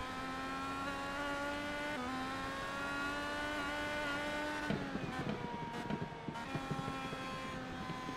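IndyCar race cars scream around USA International Speedway in a racing video game, a steady high-pitched engine whine that shifts pitch and breaks into rougher gear-change and passing bursts near the end.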